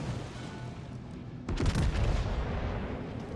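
A warship's gun salvo firing high-explosive shells in a naval battle game, aboard the French battleship Bourgogne: a sudden cluster of deep booms and cracks in the middle, over a low rumbling background.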